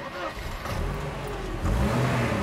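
A battered old Mercedes car pulling away at a refugee camp, its mid-pitched engine revving and swelling louder toward the end while a voice talks over it.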